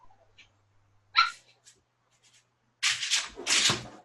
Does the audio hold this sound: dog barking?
yes